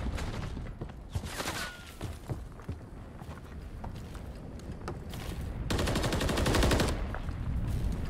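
Submachine gun fire in a competitive Call of Duty match between Toronto KOI and LA Thieves, bursts crackling through the opening seconds, then a dense, sustained burst near the end, with footsteps mixed in.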